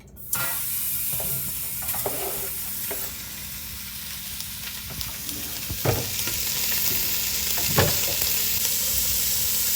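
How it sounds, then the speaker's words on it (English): Bacon frying in a pan for a Louisiana shrimp catch-and-cook, a steady close crackling sizzle with scattered pops and a few utensil scrapes, continuing alone without talk. "Go in with our bacon."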